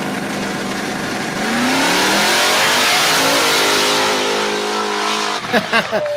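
A Ford Mustang engine roars and revs hard as it launches in a drag race against a Tesla P100D, a loud, sustained, rising snarl with shifting pitch that breaks off near the end, where voices cut in.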